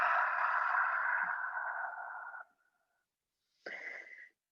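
A long, steady breath blown out through the mouth during slow yoga breathing, loud and close, lasting over two seconds, followed after a pause by a shorter second exhale.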